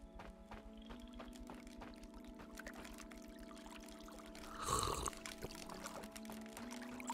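Water poured or gulped in the survival game ASKA: a short splashing burst about two-thirds through, rising over a steady hum and low in-game background.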